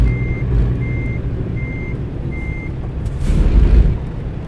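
Repeating electronic reversing beeps from a truck backing up in American Truck Simulator, four evenly spaced tones over a low engine rumble that swells near the end.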